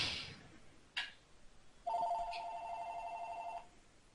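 A telephone rings in a house, one sustained electronic trill lasting about two seconds after a short chirp, heard in a room with no one talking over it.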